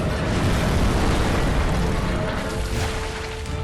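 A boss attack exploding in Bloodborne, a dense, sustained roaring blast that stays loud and close for several seconds, with no voice over it.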